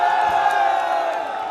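Protest crowd at Jantar Mantar in a steady roar of many voices, shouting and chanting together, loud and continuous with no single speaker standing out.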